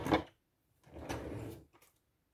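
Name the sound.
drawer being pushed shut after sticking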